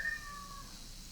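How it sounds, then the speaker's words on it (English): A pet cat meows faintly in the background, a short thin cry fading after the first half second over steady low room noise. "There's my cat meowing again."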